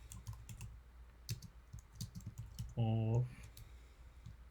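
Close, quick keystrokes on a computer keyboard tap in an irregular run of soft clicks, with a brief spoken word partway through.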